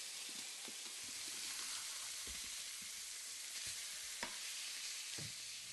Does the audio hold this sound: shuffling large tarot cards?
no